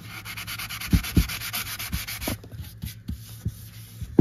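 Close, steady back-and-forth strokes of sanding by hand to strip rust from aluminium, a rough rhythmic scratching with a few heavier thumps between strokes, no talking.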